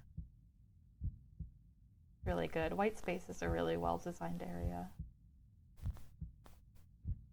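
Slow, soft heartbeat thumps pulse steadily through the quiet White Space ambience in the video game OMORI, faint and regular under a stretch of talk in the middle.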